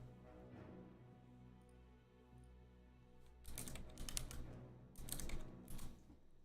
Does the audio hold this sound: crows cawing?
no